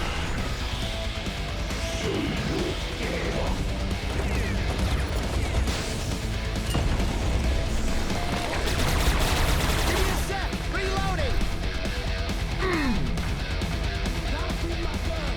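Explosions and rapid gunfire from the Serious Sam 4 shooter game, a dense continuous barrage of blasts and shots heard loud throughout, with a voice talking over the chaos.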